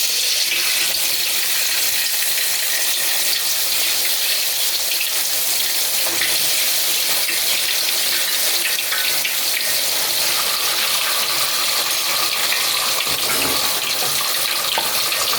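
Tahu krawul, tofu coated in flour batter, fries in hot oil with a steady, dense bubbling sizzle that runs loud and continuous throughout.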